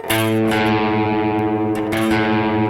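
Distorted electric guitar strings, the A string tuned slightly low against the fifth fret of the low E string, ring together with a wavering, beating tone, struck a few times and left to sustain loudly.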